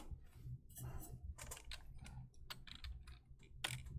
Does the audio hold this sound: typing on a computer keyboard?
yes